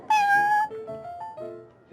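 Cat in the Cat's Tail in the video game Genshin Impact, a short series of clear, close meows, one long drawn-out call followed by several shorter rising and falling ones.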